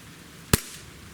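A single sharp shot from a Springfield Armory XDM pistol, one loud crack with a brief tail, otherwise quiet.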